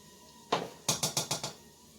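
Riced cauliflower and dishes being plated in a home kitchen for a steak dinner: one clink, then a quick run of five sharp, close knocks of a utensil against a plate, with no talking.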